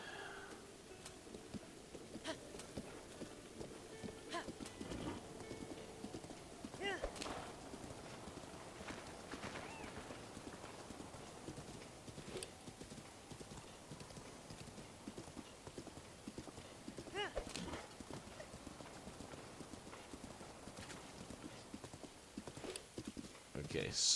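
A horse gallops in The Legend of Zelda: Breath of the Wild, its steady clip-clop hoofbeats running throughout over game ambience, with a brief whinny and someone talking over the ride.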